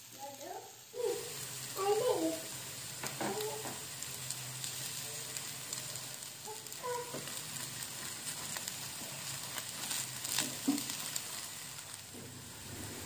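A layer of potatoes fries in vegetable oil in a pan over medium heat, a quiet steady sizzle broken by a few clinks and soft knocks.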